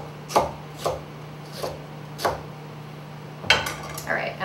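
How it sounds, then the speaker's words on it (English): A knife chopping rhubarb into pieces on a cutting board, a series of about six distinct, evenly spaced thunks, close and clear over a faint steady hum. "I just want to cut it into, it doesn't have to be perfect pieces"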